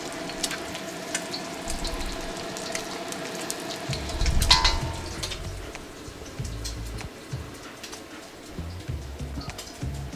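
An egg frying in oil in a round-bottomed wok gives a steady, close sizzle that crackles throughout, swelling briefly midway, with faint background music beneath.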